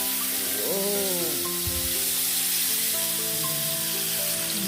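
Steak sizzles steadily in a hot frying pan for home cooking, a continuous bright hiss and crackle with faint tonal background hum, no talk.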